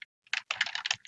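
Quick bursts of keystrokes on a computer keyboard while a chart title is typed in Excel, a short isolated tap followed by a close, dense run of clicks with no talking.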